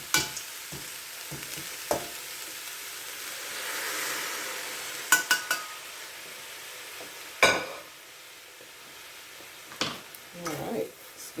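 Meat and vegetables being stirred in a pot for lasagna, a soft continuous sizzle broken by scattered scraping knocks of the spoon against the pot, fairly quiet and close.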